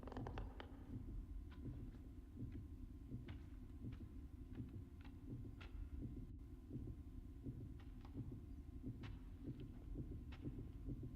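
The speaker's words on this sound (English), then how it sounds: "hearing that heartbeat come up and it kind of fades the music away a bit" A steady, throbbing heartbeat from the video game Little Nightmares pulses repeatedly in low, muffled thumps, with a faint hum beneath and no talking.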